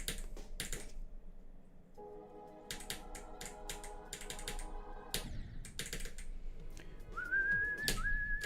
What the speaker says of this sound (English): I whistled the whole song